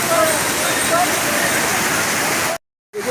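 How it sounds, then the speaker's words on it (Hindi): A tall waterfall on the Kedarnath trek roars steadily with a dense, continuous rush of falling water close by, cutting to silence briefly near the end before returning. "कितना ऊपर से देखो ये आ रहा है झरना"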